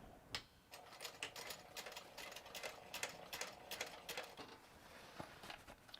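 A sewing machine stitches the fabric lining of a pouch in quick mechanical bursts, a rapid needle clatter starting and stopping with short pauses between runs, close and fairly quiet.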